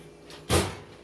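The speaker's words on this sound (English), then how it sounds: "We're going to stick them in the oven right on the top rack." An oven door swings shut after bread pans holding a garlic, onion and herb low-carb loaf slide onto the top rack, a single short muffled thud with a faint scrape just before it, heard alone in a quiet kitchen.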